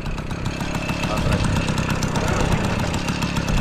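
A Piaggio or Babetta moped engine runs steadily after the pedal-to-motor switch, a loud continuous buzzing putter with dense rapid firing pulses throughout.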